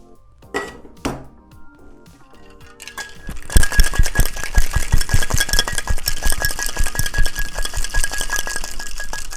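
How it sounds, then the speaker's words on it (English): Ice rattles hard inside a cocktail shaker for a Dundee cocktail of gin and Scotch whisky, opening with a few separate clinks, then breaking into loud, fast, steady rhythmic shaking that keeps going to the end. "add ice into the shaker and shake for 10 to 15 seconds"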